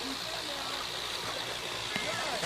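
Water running steadily over a small pond waterfall, a continuous close rushing splash with someone talking over it.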